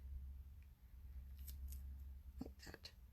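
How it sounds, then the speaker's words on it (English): Paper snips slice a sheet of crafting paper in half, giving two or three quick, crisp close-up snips near the end over a low steady room hum. "I'm just going to snip one of these in half."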